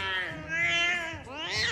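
A cat lets out loud, drawn-out meows, two close wavering cries with a brief dip between them, heard near and alone.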